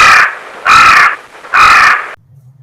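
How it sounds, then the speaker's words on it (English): Three loud, harsh crow caws in steady succession, each about half a second long with short pauses between, close and alone, then a faint low hum. "Joe the Crow"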